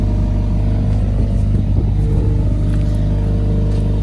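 A Mercedes GLA45S AMG sits with its exhaust valves open in Sport Plus mode, and its engine gives a loud, deep, steady rumble close by, swelling slightly in a short rev.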